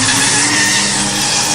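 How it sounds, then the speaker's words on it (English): A gold car skids with a harsh tire screech and roars off in a short, loud burst, a staged effect for a comedy radio drama. "So they drive away in their gold car in fear"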